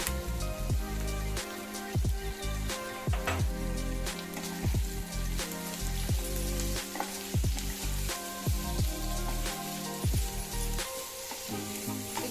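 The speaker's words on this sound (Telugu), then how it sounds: "కొద్దిగా ఫ్రై అయిన తర్వాత మనం మెంతికూర వేసుకుందామండి" Potatoes fry with turmeric in a pan for a fenugreek-leaf and potato curry, giving a steady loud sizzle broken by repeated clinks and scrapes from stirring, with no talking.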